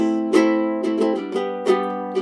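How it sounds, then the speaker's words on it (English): A tenor-sized ukulele tuned D G B E like a baritone but with a reentrant high D string, strummed in a few separate chords that ring and decay, played alone and close. "He's actually playing a tenor-sized ukulele, but tuned D, G, B, E like a baritone."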